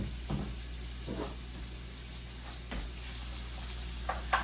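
Green onions, red onions and leeks sizzle in a hot pan for japchae, a steady soft frying hiss with a few louder crackles and stirring bursts, close and with no talking.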